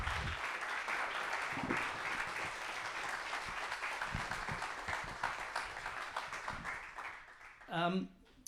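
Steady, dense applause from a seated audience welcoming an Oscar-winning producer onto a stage for a talk session, sustained at moderate level throughout before tapering at the end.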